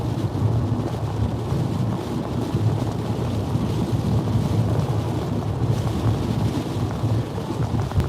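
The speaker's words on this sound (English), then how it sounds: "getting breezy" Wind gusting during a live tornado chase around Louisville, Kentucky, and Southern Indiana: a steady, dense roar of air buffeting the microphone that fills the whole stretch, with no voices.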